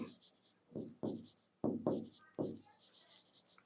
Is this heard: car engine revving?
no